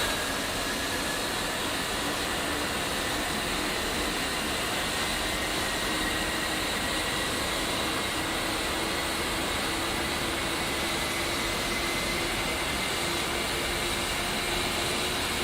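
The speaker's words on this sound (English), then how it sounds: "You can also visually look and see the engine rotating." Steady jet engine roar from a fighter in the DCS World flight simulator as the right engine spools up, a broad continuous wash with a faint rising whine, loud and unbroken throughout with no talk.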